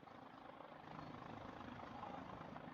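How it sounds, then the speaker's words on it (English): A helicopter drones steadily overhead above a country football ground in Heyfield, a broad, continuous engine and rotor rumble holding at moderate loudness for the whole moment with no voices. "So we can hear that helicopter."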